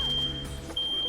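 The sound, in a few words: apartment complex fire alarm being tested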